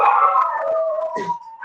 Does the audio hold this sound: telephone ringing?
no